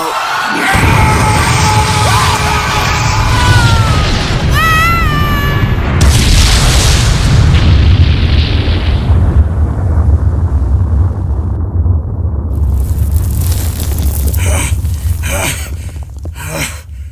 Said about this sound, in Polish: Skończę to z wielkim wybuchem, czy coś w tym stylu.